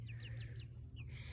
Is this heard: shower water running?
no